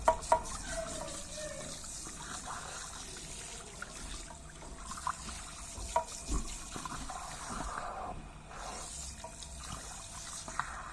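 Water running steadily from a tap during a hair wash, a continuous close splashing flow with a few brief knocks and no voices over it.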